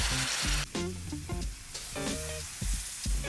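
Spices fry in hot oil for a dhaba-style paneer bhuna masala as fresh homemade tomato puree goes in, a loud close sizzle crackling throughout, mixed with brief tonal bursts and knocks.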